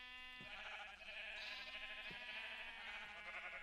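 Sheep in a video game bleat repeatedly in overlapping, nasal cries that stack up into a steady flock chorus, with a few soft thumps underneath and no talking.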